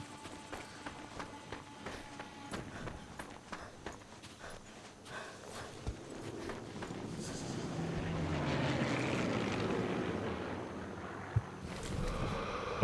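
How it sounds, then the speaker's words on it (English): A propeller airplane in Sniper Elite 3 drones overhead, rising to a broad roar midway through, with galloping hoof-like thuds and game ambience earlier on. "We can't tell if the plane's from my side or not"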